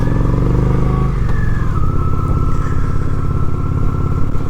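Honda Shadow 750 ACE motorcycle engine running close up during a short ride, a steady loud rumble that shifts pitch as it changes gear and settles into a continuous drone.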